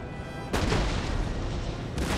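Musket and artillery fire on a flank in Empire: Total War, a steady roar of battle noise punctuated by two heavier booming volleys about a second and a half apart.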